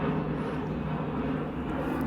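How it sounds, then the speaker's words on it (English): An airliner on approach passes overhead, lowering its landing gear: a steady, broad engine roar with a low hum holds at constant loudness throughout, distant but full, with no voices. "I can just see this one coming right over now, and it's just deploying its undercarriage, so the gear is just coming down"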